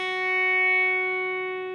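A single sustained electric guitar note picked on the 2nd fret of the high E string, ringing clean and steady with rich overtones and slowly fading, played alone.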